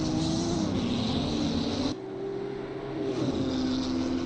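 A racing car in a three-hour endurance race at Monza in a racing video game roars up close, its engine note sweeping and shifting as it approaches and passes, loud and steady with no talk.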